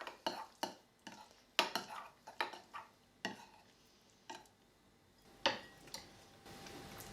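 Vanilla soy yogurt stirred in a bowl with a spoon, giving a string of soft clinks and scrapes in an irregular rhythm, close and quiet, with pauses between strokes.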